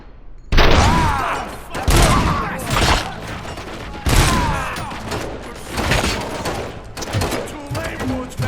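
Bursts of gunfire in the Robocop video game, repeated loud volleys with booming impacts in irregular rhythm, game voices and effects mixed throughout.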